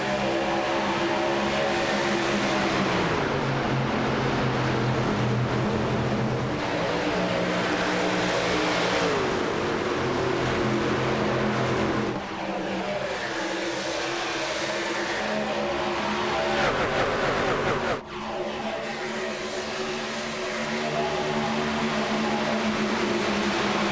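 A pack of racing trucks accelerating away at the start of the Pocono 150 in the Hammer Down Truck Series, engines droning loud and steady with rising and shifting pitches as the field fans out.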